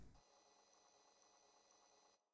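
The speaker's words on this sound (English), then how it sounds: "I actually found a piece that uses a G9, the highest note playable on real-life organs, which sounds like this, isolated." An extremely high, thin pipe organ note, G9, sounds alone as a steady piercing whistle lasting about two seconds at even loudness before cutting off.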